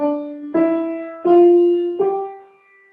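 Single musical note B, called H in German, struck three times in succession, each a clear sustained tone that decays slowly, heard alone and close.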